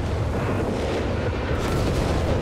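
A dense, continuous roar of artillery barrage explosions from Company of Heroes 3, loud and heavy, with booms merging into a steady rumbling wall of noise that swells slightly toward the end.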